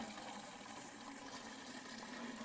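Gentle continuous trickle of water fed by gravity from a duck and goose pond, flowing out at a tap, a steady faint gurgle with no talking.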